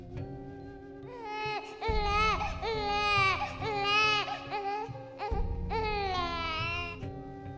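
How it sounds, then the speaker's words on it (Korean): A baby cries around a tent late at night in wavering, high wails that come in long bursts with short breaks between them, fairly close and heard alone. "텐트 주변에서 아기 우는 소리가 들리는 거예요"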